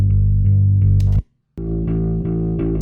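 An electric bass guitar plays sustained low notes with a mid-heavy, drier tone and little reverb, a short silent gap in the middle, then resumes with defined, punchy notes.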